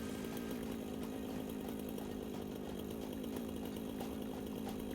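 A chainsaw cutting in the video game Satisfactory runs steadily for the whole stretch, a loud continuous buzzing drone with no pauses and no talk.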